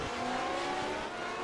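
A Lotus 79 in a racing video game locks a tire under late braking, a short burst of engine and tire noise against a steady loud car drone, with no voices.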